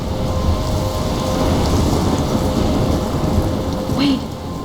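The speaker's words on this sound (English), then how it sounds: "I'm trapped in a storm?" Storm in the video game Life Is Strange: dense, loud, steady rain roar with a low rumbling undertone of thunder, plus a brief faint whistling tone near the end.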